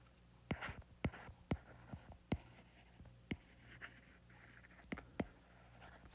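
Pen or chalk scratches out a physics solution in quiet bursts of short strokes and taps at an uneven pace, close and fairly soft, with a faint voice murmuring in the background.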